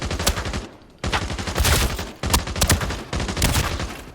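Assault rifle hip-fired in the shooter game Arena Breakout, four loud, rapid automatic bursts of about a second each, separated by short gaps, close and dominant with no talking.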